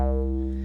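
A single low C note sustains on an Arturia MiniBrute 2 synthesizer with an acid sound, steady and harmonically rich, fairly quiet and alone for under a second.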